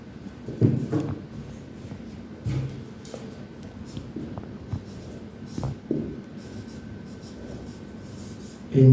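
Handwriting during a grammar lesson, with steady scratchy pen strokes and short taps on the writing surface, close and continuous through a quiet room with no talking.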